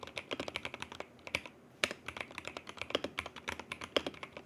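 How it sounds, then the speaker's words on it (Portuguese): Rapid clacky keystrokes on a Fecker mechanical keyboard, close and crisp, with a steady typing rhythm and a brief pause partway through. "uma amostra de como é que é digitar nesse teclado, um teste de sonoridade aí de como é digitar nesse teclado"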